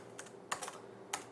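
A few scattered keystrokes tap on the backlit keyboard of a 2017 HP Spectre x360 15-inch laptop, crisp and close but quiet, with short pauses between presses.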